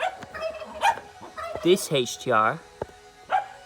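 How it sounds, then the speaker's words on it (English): Dogs let out several loud barks and yips close by, mixed with other animal calls. Someone talks at the same time. "ignore the dogs and the turkey"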